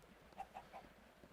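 Three quick soft clucks from a chicken in Minecraft, evenly spaced and faint, in an otherwise quiet setting.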